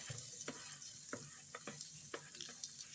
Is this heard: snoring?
no